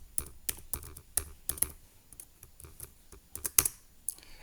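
Keys clatter on a computer keyboard while a Linux terminal command is entered, a burst of distinct clicks at an uneven pace with short pauses, close and fairly loud, no voices.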